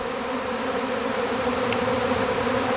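A honeybee swarm gathers on a goat willow just in front of its hive, producing a dense, steady buzzing hum that holds at an even, fairly loud level throughout, with no voices.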